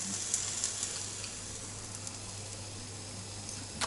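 Pork belly searing in its own rendered fat with no added oil, a steady close sizzling hiss that continues unbroken with faint crackles and no talk over it.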